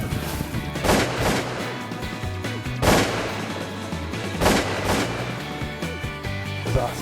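Shotgun blasts ring out while duck hunting mallards in flooded timber, several loud booming shots spaced a second or two apart over a busy, noisy background.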